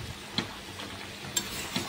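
A spoon stirs spinach and chicken curry in a pan of greens that have released their water: a few soft scraping strokes with brief clinks against the pan, over a low simmering sizzle.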